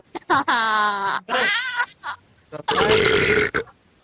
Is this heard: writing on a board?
no